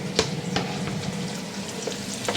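Diced carrot, onion and red pepper frying in a pot, a steady close crackling sizzle with a few sharper pops and stirring scrapes.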